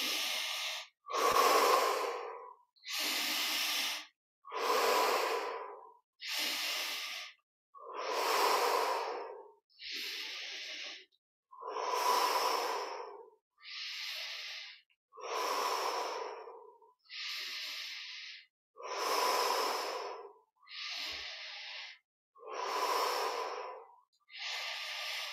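Slow, deep breathing during a guided yoga meditation: about fourteen even breaths, each a soft airy inhale or exhale lasting roughly a second and a half with short gaps, close and clear with no talk.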